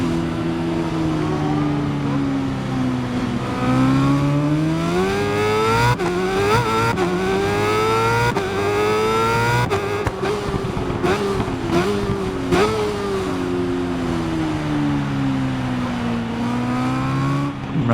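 A BMW S1000RR superbike's engine races around a circuit in the Ride 5 video game, screaming loud and close, pitch climbing through the gears with brief drops at each shift and downshifts into corners, sustained throughout.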